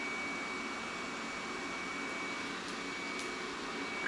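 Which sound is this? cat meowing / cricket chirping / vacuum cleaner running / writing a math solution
vacuum cleaner running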